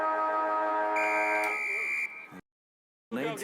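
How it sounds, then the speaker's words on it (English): A siren blares at a sports match, a loud sustained electronic buzzer tone with a shifting pitch that cuts off abruptly into silence before noise resumes. "Now I could press the siren again here, Al."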